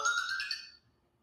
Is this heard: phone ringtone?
yes